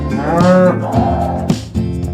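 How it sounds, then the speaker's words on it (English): Cow mooing once, a loud, drawn-out, close-up low call with a rising tone, followed by a few brief softer sounds. "C is for cow."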